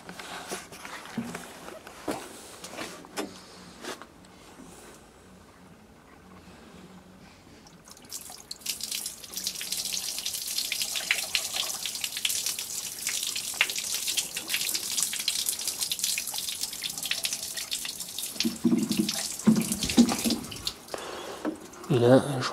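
Water from a bucket is poured out, a sustained splashing, rushing wash that starts after a quieter opening and runs loud for most of the clip, with a voice talking at the beginning.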